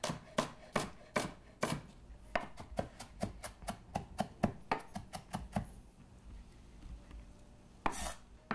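A knife slices and roughly chops skinned shallots on a board, with a quick run of crisp, even taps that slows to scattered cuts, close and distinct, with no talking.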